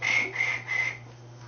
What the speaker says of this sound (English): Why I hear crickets?